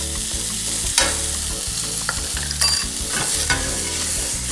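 Brussels sprouts and nuts sizzle loudly in a hot pan, a steady frying hiss broken by several sharp clatters as they are tossed and stirred, with no talking.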